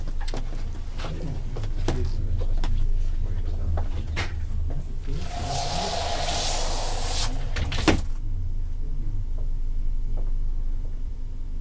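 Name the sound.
door opening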